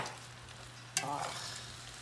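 Bacon hits a hot pan of cabbage with a sudden sharp sizzle, then a steady close frying hiss with stirring, after a quieter background crackle; no talking.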